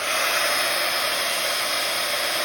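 Hair dryer blowing on wet pink paint in a mixed media journal, a loud steady close whir held for the whole moment without talk.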